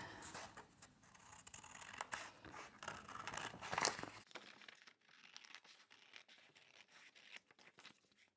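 Scissors cut through crinkly food packaging at close range, rapid snipping and crackling plastic for about four seconds, then quieter, sparser rustles and snips.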